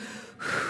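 A voice imitates hard panting, one short sharp breathy inhale-exhale, close and fairly loud, alone.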